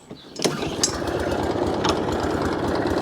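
A Hayter 56 Pro lawnmower with an automatic choke and no air filter fires up and settles into a steady, close, continuous engine run, with a few sharp clicks early on.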